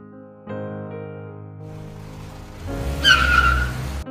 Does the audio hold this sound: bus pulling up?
yes